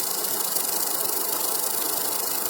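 A homemade electromagnet ion drive with a 0.7 millimetre wire coil of about 5 ohms runs after being switched on, giving off a steady hissing, faintly rattling hum that holds level throughout with no voices.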